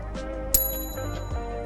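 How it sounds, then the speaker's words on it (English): A solid billet aluminum bicycle bottom bracket part gives off a clear bell-like ring when struck, with a sharp metallic tap followed by a sustained shimmering tone close by, with no talking. "This is solid billet aluminum, milled out. It's got a nice ring to it"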